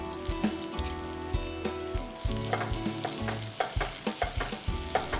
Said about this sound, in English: I'm going to let the onions sweat.